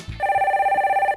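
A telephone rings for an incoming call in one warbling electronic burst of about a second, loud and close, with no talk over it.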